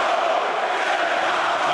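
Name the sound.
Milan crowd at Bellator MMA fight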